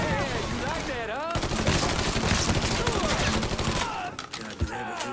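Sustained gunfire in the crime video game Mafia 3, a dense burst of rapid shots filling several seconds, with shouting voices over the fight and a final sharp report as it thins out.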